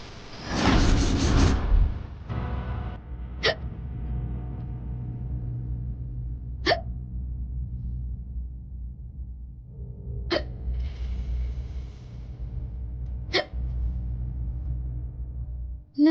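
A sleeping person hiccups four times at slow, even intervals. Each hiccup is short and sharp over a low, steady room hum, after a brief louder rush of noise at the very start.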